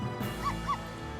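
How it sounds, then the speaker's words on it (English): Two short dog barks from a dog in the Professor Layton vs Phoenix Wright: Ace Attorney video game, close and clear, a quick pair less than a second long over a steady game background. "Ruff, ruff, woof, woof."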